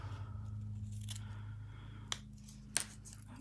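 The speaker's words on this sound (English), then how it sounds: "what you need to do is just cut off these little round sides here so that it's a straight edge" Scissors snipping the rounded sides off a small paper label, two or three crisp separate cuts over a low steady hum, quiet and close.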